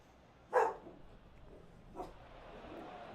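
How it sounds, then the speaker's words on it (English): A pet dog gives one sharp bark nearby, followed by a softer second yelp, with quiet background ambience. "Sorry, my dog's going crazy about something."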